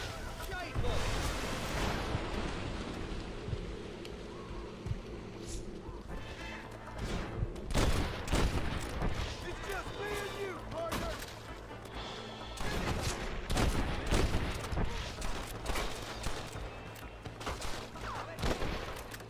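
Gunfire in Red Dead Redemption from enemies shooting down off a cliff top, with loud crackling bursts of shots and booming impacts over a dense game soundscape, volleys recurring throughout.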